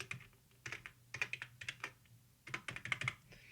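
Quick bursts of typing on a computer keyboard while writing a short line of Python code, with clustered clicky keystrokes, brief pauses between groups, close and moderately quiet.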